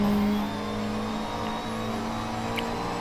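GT3 race car engine in a Mugello race in a racing game, a steady sustained drone with a held tone, loud and continuous throughout.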